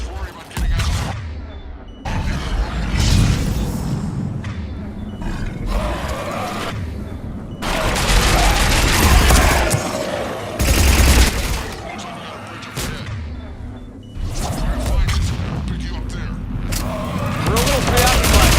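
Gunfire from the shooter Mass Effect 3, with loud bursts of rapid automatic fire and heavy shots coming in several waves separated by brief lulls, mixed with mechanical clatter and grunts, while voices speak over the battle at times.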